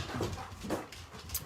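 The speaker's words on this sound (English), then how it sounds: "All the dogs are coming in." Several pet dogs trotting into a room, with soft whimpers, panting and faint paw and body movement close by, a brief busy burst of animal noise.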